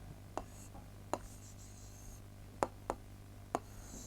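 Pen strokes scratch across paper as Urdu words are written by hand, five short separate scrapes spaced irregularly over a faint steady background hum, close and quiet.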